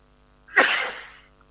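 One loud, close sneeze breaks a near-silent background, with a brief onset and a breathy burst that fades over roughly half a second.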